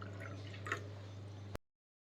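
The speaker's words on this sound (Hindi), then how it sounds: "इस कप में आपको 1 कप आपको पानी डाल लेना है" Water is poured into a large cup, making a short, wet trickling and splashing sound over a steady low hum before cutting off sharply.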